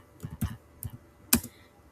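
A few scattered keystrokes tapped on a computer keyboard while entering a line of text, close and clear, uneven clicks with short gaps.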